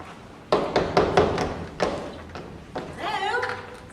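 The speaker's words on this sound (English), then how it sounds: "Essie does not hear the knocking on the front door and continues to fast" A few soft knocks on a front door, a cluster of dull thumps close by, then a pause and another pair, with a person's voice rising faintly toward the end.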